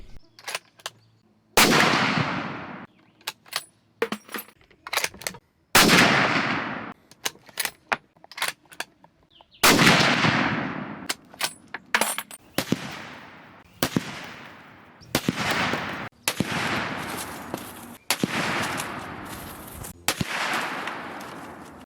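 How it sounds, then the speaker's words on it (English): Loud, close rifle shots from a 30-06 firing 165 grain North Fork bonded bullets into ballistics gel, several sharp blasts spaced a few seconds apart, each ringing out in a long echoing tail, with metallic clicks of cycling between. "So let's go ahead and shoot it."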